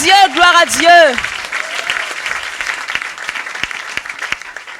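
Church congregation clapping in a continuous patter of scattered claps, starting under a loud sung or shouted voice that then gives way to the applause.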